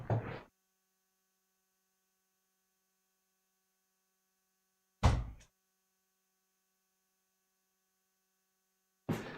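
A door swings shut with a few short, heavy thunks spaced seconds apart in an otherwise silent room, each a sharp knock that dies away quickly under a faint steady electrical hum.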